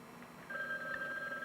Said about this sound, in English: Ethel, let Margie answer the phone.